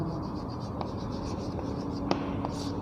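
Chalk or marker scratching out a formula on a classroom board, faint scratchy strokes with a few sharper taps over a steady room hiss.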